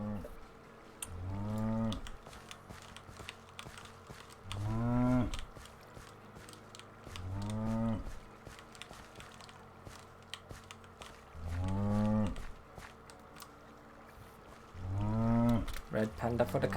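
Minecraft oxen in a modded dinosaur world give repeated low, drawn-out moos, four separate calls spaced a few seconds apart, fairly close and loud over a steady background hum with faint clicks.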